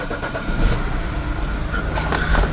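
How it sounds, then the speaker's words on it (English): A BMW 3 or 5 Series six-cylinder engine with a bad injector cranks and fires up, a loud close rumble that settles into a rough, steady run. "Okay, now carefully I'm gonna turn on the car"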